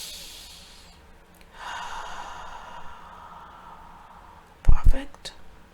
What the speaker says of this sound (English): Take a deep breath right here.